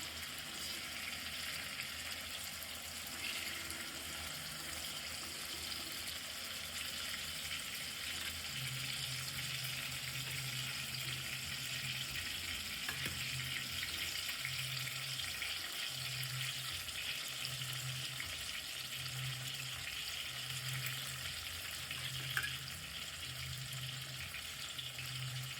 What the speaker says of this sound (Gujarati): ટમાટા ફ્રાય થાય છે, ડુંગળી પણ ફ્રાય થાય છે.